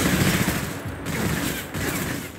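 Sustained gunfire in a Metal Gear Solid Delta firefight, rapid overlapping bursts forming a loud, continuous rattle with brief dips, no talk over it.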